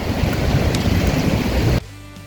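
Rushing water from the Cisadane river roars loudly and steadily in a broad wash, mixed with wind buffeting, then cuts off abruptly into a quieter, faint tone.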